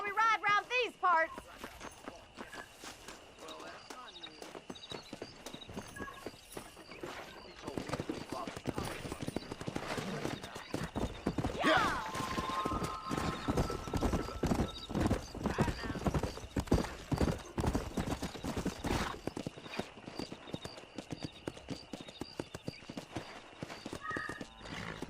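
Horse hooves pounding in Red Dead Redemption Remastered on Switch: rapid, rhythmic clip-clop of a galloping horse, close and continuous, with a whinny at the start and voices talking over the ride.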